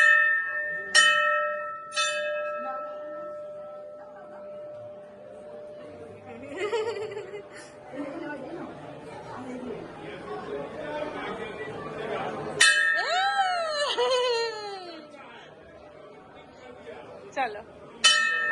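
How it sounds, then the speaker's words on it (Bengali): A child rings a heavy temple bell at Kalighat: a few bright ringing strikes early on, then a louder clang later that rings out and decays, with adults talking and laughing throughout. "ওই যে ঘন্টা বাজাও, ধরো"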